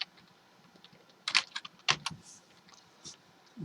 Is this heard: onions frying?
no